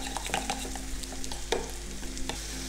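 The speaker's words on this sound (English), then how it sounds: "Now give this a really good stir" A spoon stirs lamb souvlaki mixture with parsley and garlic, giving soft, irregular scraping and clicking over a faint steady sizzle, close and fairly quiet.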